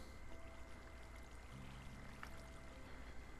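Water rushes steadily through a Minecraft minecart flusher, a faint continuous pouring stream with no breaks, joined by a thin low hum partway through.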